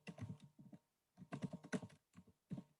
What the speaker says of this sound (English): I'm typing